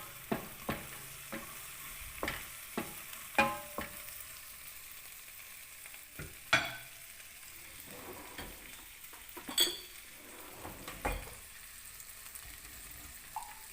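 Tomatoes being stir-fried in a pan for a Taiwanese tomato omelette, a steady sizzle close by with repeated scraping and clacking strokes of the spatula against the pan.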